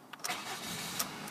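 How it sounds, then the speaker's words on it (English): Grey Ford Mondeo automatic diesel car cranking and firing up, a brief starter whirr rising into a steady, even engine hum, moderately loud and alone. "Getting the car started."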